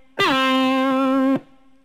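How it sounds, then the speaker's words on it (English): Electric guitar note struck on the fourth string at the 17th fret and slid down to the 10th: a quick pitch drop at the attack, then a steady held tone for about a second before it cuts off. "We're going to hit it on the 17th fret and slide down all the way to the 10th."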